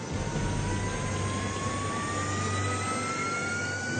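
A Horten jet-powered fighter bomber engine roars steadily, with a broad rushing drone and a slowly rising whine that stays loud and continuous.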